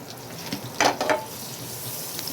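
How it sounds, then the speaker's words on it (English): Butter melts in a hot pan with a soft, steady sizzle, broken by a couple of brief louder hissing bursts at close range, with no voices. "Now I'm sliding in some amount of butter inside it and allowing the butter to melt."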